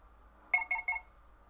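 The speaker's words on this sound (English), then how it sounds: "My phone was making lots of noises." A phone gives three quick, evenly spaced electronic beeps. They sound alone over a faint low hum.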